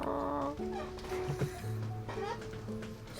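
Hen clucking, a few short squawky clucks in the middle of the clip, while several people talk in French over it.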